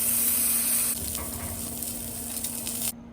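A ribeye steak sears on a hot griddle with a steady, bright sizzle that runs for about three seconds and drops away abruptly near the end.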